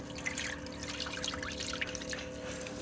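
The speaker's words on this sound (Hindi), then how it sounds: "पानी भर दिया समीना इसके अंदर" Water poured into a pot, a steady close trickle and splash that fills the whole moment evenly, fairly loud with no talking.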